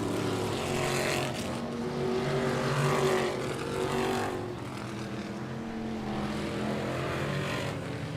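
Race cars racing at Humberstone Speedway, a loud, continuous engine roar with rising and falling passes as cars circle the track, heavy and steady throughout.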